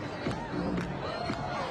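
Crowd of revellers at Roma Pride in Rome, a dense, steady babble of many voices with scattered cheers and shouts, close and continuous throughout.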